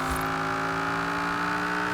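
Pontiac Firebird with an all-wheel-drive, 1,000-horsepower Viper V10 swap in Forza Horizon 4, accelerating with a steady, loud engine whine that holds a constant pitch throughout, close with no talk.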